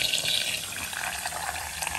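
Water poured into a blender jar holding tomatoes, chiles, a small onion and garlic, a continuous close splashing rush lasting a couple of seconds with no talk.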